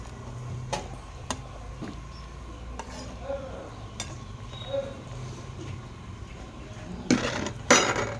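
A lid is set onto a cooking pot of Assamese boiled fish over a low simmering background hiss, ending in two quick metallic clanks close together.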